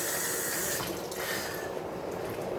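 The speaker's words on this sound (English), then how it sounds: "Let me rinse off this spoon." Running water from a kitchen tap rinsing a spoon, a steady close hiss of flowing water with a brief change in tone as the spoon passes under the stream.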